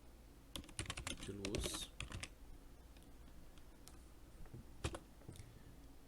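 Computer keyboard typing while working in 3D stage lighting software, a run of quick clustered keystrokes early on followed by a few isolated presses, close and fairly quiet, with a brief murmur of speech.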